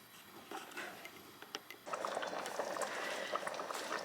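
A rabbit and vegetable pie filling simmers in a pot on the hob, a steady close bubbling and popping that grows busier and louder partway through, with no talking.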